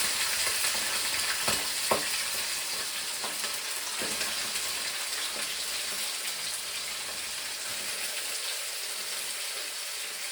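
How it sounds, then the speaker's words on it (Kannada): Chicken gizzard and liver frying in hot oil, a steady broadband sizzle with a few sharper crackles and spits early on, close and continuous with no talking. "ಸೊ ಈಗ ಎಣ್ಣೆ ಬಿಸಿಯಾಗಿದೆ, ಅದಕ್ಕೆ ನಾವು ಕಟ್ ಮಾಡ್ಕೊಂಡಿರೋಂತಹ ಗುಂಡ್ಕಾಯಿ ಲಿವರ್ ಹಾಕಬೇಕು"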